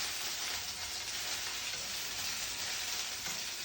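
Gongura flowers fry in a pan, giving a steady, dense, bright sizzle throughout, with faint soft stirring movements blended into the continuous hiss.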